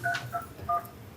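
Three short two-tone telephone keypad beeps, pressed one by one in a quick uneven rhythm, close and clear over a low background hum.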